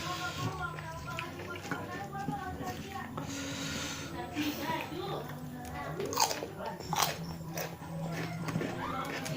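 Crunchy cucumber in rujak, an Indonesian fruit salad, is bitten and chewed close to the mic, with repeated wet crunches and mastication sounds under ongoing background noise, and a voice speaks at times.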